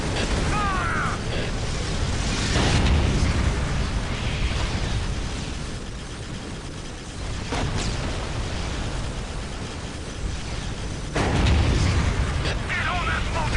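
Weapons fire and explosions in a video game, a dense mechanical rumble with loud bursts near the start, around eight seconds and at the end, under excited voices shouting commands.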